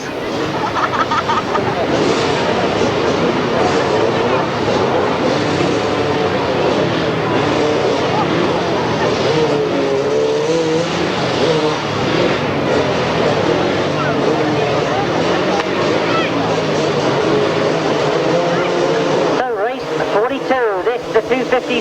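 250cc grasstrack motorcycles race in a final at a 1994 summer grasstrack meeting, their engines a continuous loud drone and buzz throughout. A commentator talks over the racket.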